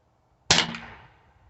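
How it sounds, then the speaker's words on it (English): A Mercury Rise MUB .50 caliber less-lethal air pistol fires a single sharp, loud crack that rings briefly and decays over about a second, with no talking. "First shot, second shot, third shot, fourth shot, fifth shot, sixth shot."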